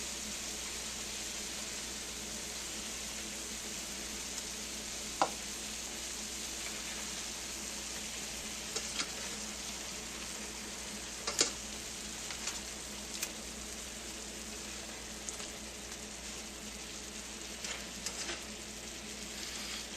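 Salisbury steak patties sizzle and fry in a pan just after being flipped, a steady, moderately quiet crackling hiss with a few sharp pops scattered throughout.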